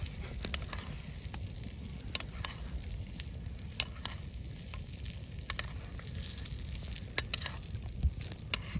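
Meat sizzles steadily as it fries in a pan outdoors in the Endla nature reserve, a continuous crackling hiss with small pops scattered throughout, moderately close and without speech.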